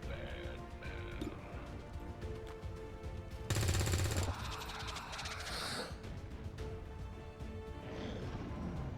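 Gunfire in the turn-based strategy game XCOM 2, a dense burst of shots standing out loudly for about a second over a busy game soundscape with music, with fainter sharp cracks scattered around it.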